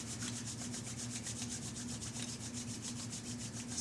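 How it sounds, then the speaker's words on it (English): Palms rub together vigorously during a chair yoga session, a steady dry swishing friction that pulses in a fast, even rhythm, close and alone, with no talk. "Bringing hands together, rubbing them rather vigorously"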